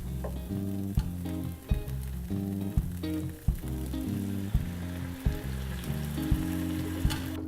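Rice is stirred in a pan while warm stock is added a ladle at a time, a soft continuous sizzle and scraping stir beneath steady rhythmic background music with occasional clinks.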